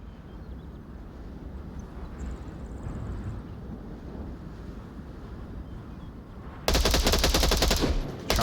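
Rapid automatic gunfire rattles out in a long, loud, dense burst during a competitive video game match, breaking in after several seconds of windy, rumbling ambience.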